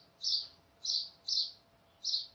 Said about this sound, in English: that bird song keeps throwing me